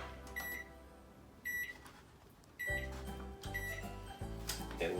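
Oven control panel being set to 350, a series of short, bright electronic beeps from button presses, close and clear, spaced over a few seconds with faint background hum.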